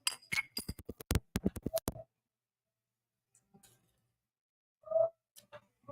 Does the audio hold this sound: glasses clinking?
yes